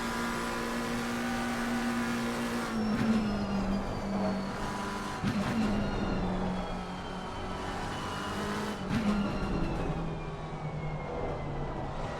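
GT3 race car in a racing video game at the Nordschleife, a sustained loud engine whine holding steady then dipping slightly through gear changes, continuous throughout without talk.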